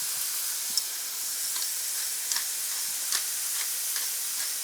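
Ground meat with minced onion, salt, pepper and garlic sizzling and frying in a pan for shepherd's pie, a steady close hiss with occasional ticks and pops as it is stirred and broken up.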